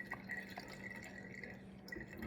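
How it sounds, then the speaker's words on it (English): Buttermilk is poured off freshly churned butter that has clumped together, giving a faint, close trickle and dripping of liquid into a container with a few soft clinks, all quiet and with no talking. "So we pour the buttermilk off."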